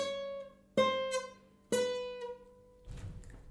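Separate plucked notes on a guitar, fretted with the finger slightly too far from the fret, each ringing out and decaying with a faint buzzy, unclean edge. A soft rustle of handling noise follows; there is no talking.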